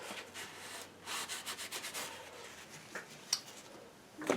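A brush or rag rubs oil paint off a canvas in a series of short, soft scrubbing strokes, close and fairly quiet, ending with a couple of light taps.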